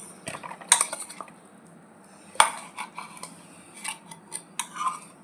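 Ground soya chunks are scooped from a grinder jar into a large bowl, producing scattered metallic clinks and scrapes, two sharper knocks standing out among lighter taps, close and alone.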